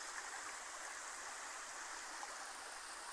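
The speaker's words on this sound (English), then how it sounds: "can you hear the river? It's down there." A river rushes steadily below a woodland path lined with gnarled old trees, a broad hiss of flowing water heard from a short distance, with no talk over it.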